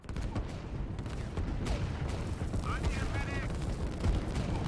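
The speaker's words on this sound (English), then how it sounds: "the artillery here is trying to fire at this structure over there and the infantry on the ground" Artillery fires in the Line War strategy game amid a continuous, dense battle din of booms and rattling gunfire that stays loud and unbroken throughout.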